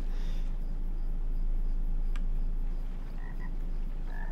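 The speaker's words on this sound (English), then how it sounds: "There's a frog." A single frog croaks in a LOTRO game scene set in the watery ruins of old Esgaroth, with short repeated croaks over a steady ambient hum.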